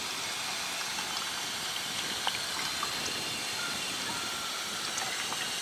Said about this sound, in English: This is some good AT water source.